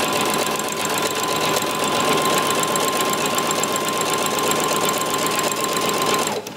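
A sewing machine running steadily as it stitches in a hidden zipper, a loud, even mechanical whir held for several seconds before it stops abruptly, with no talking.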